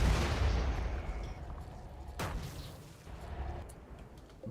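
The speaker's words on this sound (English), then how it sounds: "We can fire the mortars." Mortar fire in the colony-management game Rimworld: a steady low rumbling barrage with one sharp, loud blast about halfway through, then continued muffled booming, with no voices.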